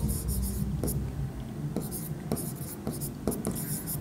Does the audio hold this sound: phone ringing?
no